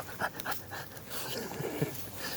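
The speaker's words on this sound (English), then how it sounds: "We got crazy dog." A pet dog named Hank pants and whimpers nearby, quick breathy huffs mixed with soft whines, fairly quiet, with light human voice now and then.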